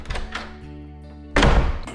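A room door is opened in a domestic drama scene: a soft thunk at the start, then a loud, full-bodied burst of door noise that lingers over steady background music.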